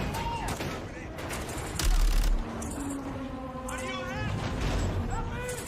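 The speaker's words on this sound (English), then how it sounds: "Let's have ourselves a gunfight!" Gunfire in a video game trailer: a burst of shots rises briefly in the middle, mixed under voices and music for the rest.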